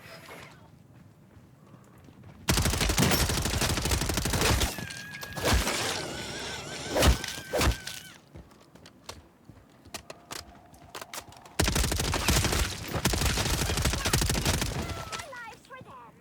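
Bursts of hip-fire gunshots in Call of Duty MWZ, loud rapid volleys in two long stretches with scattered single shots and clatter between them.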